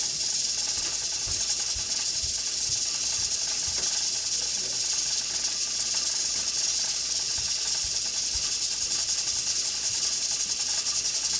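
A pressure cooker on high heat lets out a steady, loud hiss of escaping steam, with a faint irregular rattle of the weight ticking beneath it, continuous and unchanging with no talking.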